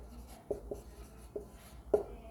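Marker or chalk strokes tap and squeak against a board in short, scattered bursts, close and fairly faint, with quiet pauses between the marks.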